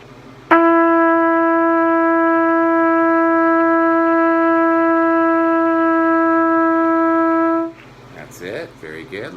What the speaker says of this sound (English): This is F sharp, and the fingering for F sharp is second valve